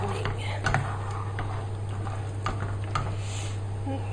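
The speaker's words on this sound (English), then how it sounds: "Then we need to mix all this in together." Chocolate cream pie filling, with butter melting into it, stirred in a pan: soft, light ticks and scrapes over a steady background hum, faint and continuous.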